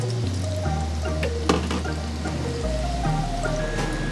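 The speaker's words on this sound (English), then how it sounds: "now we're gonna fry it" Tempura batter of flour, corn flour, egg and sake frying in hot oil, a steady bubbling sizzle with occasional pops, close and without speech.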